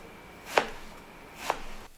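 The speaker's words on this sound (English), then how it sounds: "now we just have to chop this into small pieces" A knife cuts pear into small pieces on a board, two crisp chops spaced about a second apart, close and clear with no voice.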